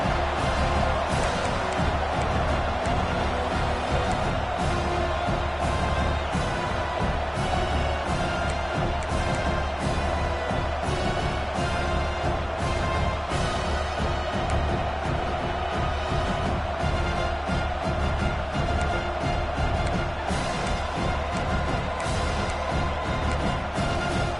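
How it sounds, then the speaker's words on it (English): A huge stadium crowd roars continuously, a dense wall of cheering and shouting that swells and churns without letup. "listen to this crowd noise. This stadium is vibrating."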